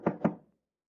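Two quick knocks on a door, close and hollow-sounding, followed by silence.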